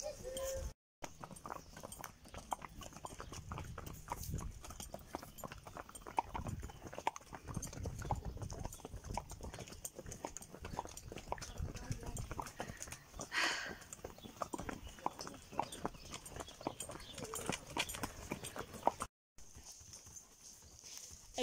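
A pony being led on foot clip-clops steadily, its hooves tapping in an even walking rhythm close by, with people talking faintly at times in the background.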